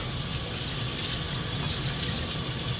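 Water running steadily from a tap while a statue is rinsed, a constant loud hiss and splash with no pauses.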